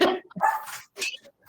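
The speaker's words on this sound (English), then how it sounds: "that is not my dog" A dog barks in a few quick, sharp yips, close and fairly loud, in a short burst of roughly three barks.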